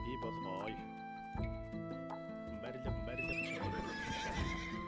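Galloping horses in Age of Empires II: The Conquerors, with rapid clip-clop hooves and repeated whinnies and neighs over a steady bed of game music.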